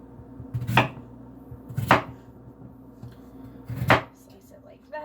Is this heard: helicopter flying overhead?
no